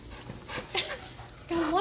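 A pet dog whimpers and pants close by in short, high whines, while a person talks to it warmly over the sounds.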